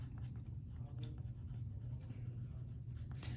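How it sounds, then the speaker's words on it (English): Chalk or marker strokes scratch across a board in short bursts during a maths lesson, close and quiet, with brief scraping taps repeating over a few seconds and no speech. "So let's write this down."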